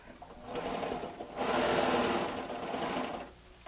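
An overlock sewing machine runs at speed while stitching a seam, a dense whirring mechanical chatter that swells louder midway and then eases off, with no voices.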